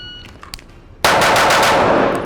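Five gunshots from a rapid shooting drill crack out in quick succession after a quieter second, loud and close, each shot following the last in an even, fast rhythm.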